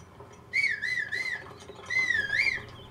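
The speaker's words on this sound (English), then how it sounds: "I'm going to have Link use his whistle to try to resummon the horse again" Link whistles to call his horse in Zelda: Breath of the Wild, two rising-and-falling whistled phrases separated by a short pause, clear and fairly loud over quiet game ambience.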